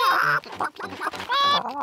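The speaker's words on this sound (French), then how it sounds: "Peppa, Georges, voulez-vous donner à manger aux poules?" Cartoon hens clucking in a stop-motion Peppa Pig toy scene with farm chickens, a short run of bright, close clucks and squawks filling the clip on their own.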